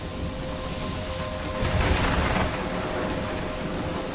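A thunderstorm in the video game Life Is Strange brings steady heavy rain and a low, rolling rumble of thunder that swells midway and then eases.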